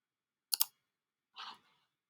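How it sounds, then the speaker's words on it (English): A computer mouse click while working in Fusion 360: a sharp double click, then a softer second click a moment later, close and isolated in a quiet room. "I'm going to click OK"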